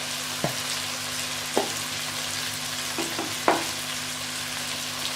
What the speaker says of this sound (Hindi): अब मैं मसालों को अच्छे से भून लूँगी।